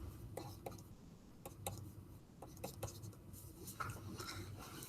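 A pen writing on a board or tablet while math points are plotted, a string of quiet, close scratchy strokes and taps in irregular short bursts, faint and alone.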